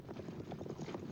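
Hooves of two horses pulling an Egyptian war chariot that carries a driver and an archer: a rapid, continuous clatter of clip-clopping, close and steady.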